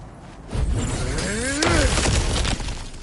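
Breakable objects shatter in God of War Ragnarok, a loud close crash with splintering debris, a heavy smash and tumbling rubble over a rumbling game soundscape.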